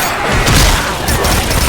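SCAR rifle fire in Left 4 Dead comes as a loud, dense burst of gunshots and booming impacts that runs without a break, harsh and close.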